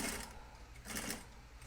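A sewing machine stitches a jean hem in two short bursts of rapid needle whirring, near and moderately quiet, with a brief pause between runs and no talking.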